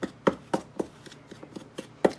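Rhythmic knife strokes cutting through pie crust dough for jam cookies on a board, about nine soft, evenly spaced thuds close up with no talking.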